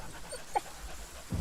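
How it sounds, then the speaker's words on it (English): A dog in The Pillars of the Earth video game makes a short, quiet whimper and soft panting breaths, faint and brief, with no speech. "I give the dog bread. Poor girl, you must be starving."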